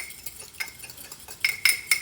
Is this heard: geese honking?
no